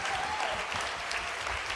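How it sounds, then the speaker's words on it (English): A live audience applauds a band after its performance, dense steady clapping that fills the room without a break, with a voice faintly audible beneath it. "Everybody, let's give these guys a great big hand."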